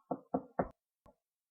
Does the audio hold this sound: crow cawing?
no